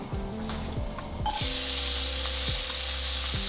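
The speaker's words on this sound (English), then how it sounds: "We're gonna put the peppers," Bell peppers sizzle in a hot pan on a chicken fond, and the frying surges louder partway through, then keeps up a steady hiss with occasional stirring scrapes.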